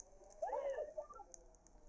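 Bird in the Rainbow Friends 2 horror game, a short faint cooing call over a quiet background hum.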